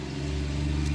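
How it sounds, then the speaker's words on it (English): A big truck rumbles past on a narrow jungle road in Peru, its deep engine hum steady and close for a moment, with no voices over it. "we've got a big truck coming by"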